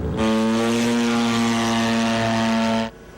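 A military UAV drone aircraft flies overhead with a loud, steady propeller engine drone, its strong buzzing hum holding constant for about three seconds before cutting off.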